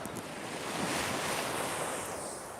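Sea waves roll onto a beach as the tide comes in, a continuous wash of surf mixed with wind buffeting the microphone, moderately loud and unbroken with no voices.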